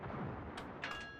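Ship secondary guns firing in the World of Warships naval video game, a brief rumbling roar of distant cannon fire with a couple of quick sharper reports near the end.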